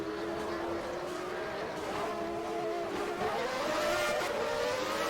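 Onboard F1 car engine in the rFactor racing game at the Japanese Grand Prix, a continuous loud high-pitched whine with rising and falling rev tones throughout, no pauses.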